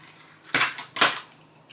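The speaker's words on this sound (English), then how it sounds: "I'm just going to use a toothpick and just mix it into the mixture." A toothpick stirs lemon yellow food colouring into macaron batter, giving two sharp, close clicking scrapes about half a second apart over a quiet background.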